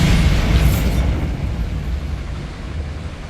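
Bombarda spell explosion in Hogwarts Legacy: a loud, close blast with a crackling burst at the start that rumbles on and slowly fades, heard alone without voices.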